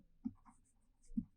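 Chalk or marker taps and scratches on a board during a physics lecture: two distinct soft knocks about a second apart with faint scraping between, in an otherwise quiet room.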